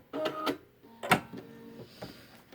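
A sewing machine stitches along a seam in short mechanical bursts, its needle clattering in a few quick runs with brief pauses between them, close and fairly quiet.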